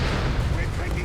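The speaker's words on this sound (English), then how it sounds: "And that was a big explosion." A big explosion in the World War II strategy game Company of Heroes 3, a dense, loud, sustained rumbling blast with crackling debris filling the whole moment, no pause or quiet tail.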